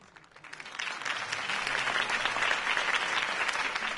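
Applause from a crowd in the video game Batman: The Telltale Series swells from a few claps into sustained, dense clapping that holds steady at moderate volume.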